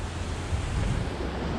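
The Jacques-Cartier river flowing beneath a former railway bridge at Pont-Rouge, Québec: a steady, broad rushing wash of water, close and fairly loud, with no voices.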